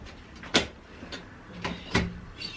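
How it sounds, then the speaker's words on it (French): A door closing gives a few quiet, short knocks and clicks spaced about a second apart, with the sharpest thud early on. "on va bien fermer la porte"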